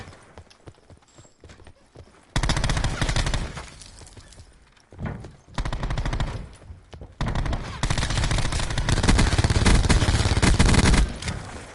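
A Spitfire gun in a video game fires in long sustained automatic bursts, loud and harsh, with short gaps between volleys and faint game noise in the pauses.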